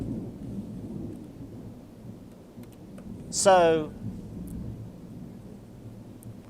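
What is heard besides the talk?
thunder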